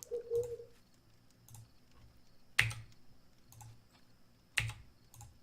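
Two sharp, isolated key presses on a computer keyboard while playing Balrum, spaced about two seconds apart, fairly close and alone over a quiet background with faint bird-like cooing.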